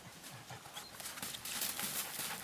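Stallions' hooves clip-clopping on the ground in summer nomadic country in Kyrgyzstan, a quick irregular patter of several hoofbeats, fairly close, over light outdoor background noise.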